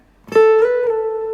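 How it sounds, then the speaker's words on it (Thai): A single plucked acoustic guitar note slides up to the 12th fret and then back down, sustaining cleanly on its own. "ดีด1ครั้ง แล้วก็สไลด์ไปช่องที่ 12 แล้วก็สไลด์กลับดีดแค่ครั้งเดียวนะครับ"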